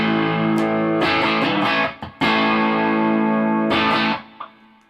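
Loud, heavily sustained electric guitar chords through a Swiff Audio WT09 wireless system with a preamp at the usual settings, strummed repeatedly with brief pauses and ringing decay at the end.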